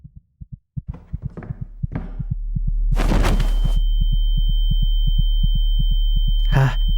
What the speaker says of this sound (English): I can feel my heartbeat start to increase